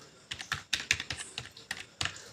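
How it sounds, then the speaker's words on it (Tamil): Keys tapped on a computer keyboard while entering an Aadhaar number, a quick uneven run of crisp, close clicks in short bursts with brief pauses, no voices. "இங்கே வந்து ஆதார் நம்பரை டைப் பண்ணிக்கணும்."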